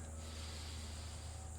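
Steady, close breathing during a ski fitness yoga exercise, with a rough, snort-like nasal rush of air that fills the short moment without pause and no talking.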